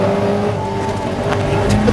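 Caterham race cars run wheel to wheel at Silverstone, a loud, steady engine drone with a sustained tonal hum that stays close and dense for the whole brief moment.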